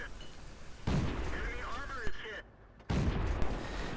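Tank cannon shots in World of Tanks on the Steppes map, a heavy booming blast followed by ringing, whining echoes and a second loud shot near the end, with a voice talking over the battle.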